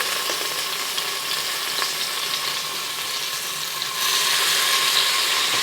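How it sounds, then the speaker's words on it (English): Pork belly browns in a hot pan with a dense, steady sizzle and crackle of frying fat. It holds evenly throughout and grows slightly louder near the end, with no voices. "So add your pork belly."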